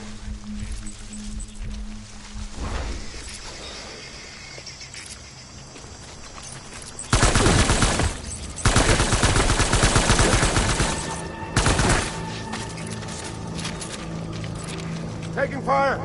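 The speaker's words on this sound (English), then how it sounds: "Taking fire!" Gunfire in the video game Death Stranding, loud sustained bursts of shots and rapid fire crackling through the middle of the clip, with a voice speaking over parts of it.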